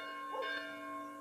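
A village church bell in Cyprus gives a single sustained, resonant ring with a lingering hum.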